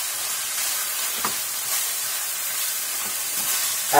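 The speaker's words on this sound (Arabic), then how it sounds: "في الوقت ده بنزل بالبصلة العادية اللي هي متقطعة، قلب قلب كده جميل" Chopped onion frying in a hot pan, a steady loud sizzle and hiss with faint scrapes as it is stirred, close and continuous.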